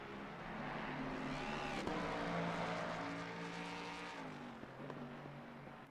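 A race car from a racing video game, run wet at Misano, drones loudly and steadily after understeering off the track, its engine note holding then dropping lower near the end, with no talk.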